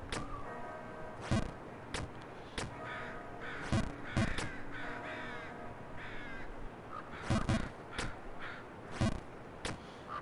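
A bird caws loudly in the video game Jump King, with sharp calls repeating in bursts of one or two above a constant buzzing ambience.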